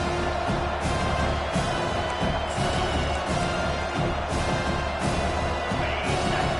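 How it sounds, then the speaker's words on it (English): A football stadium crowd roars continuously during a defensive third-and-long play, a loud, dense, sustained wall of cheering and noise with rhythmic surges. "Listen to this crowd just shaking the girders of this place, trying to help their defense."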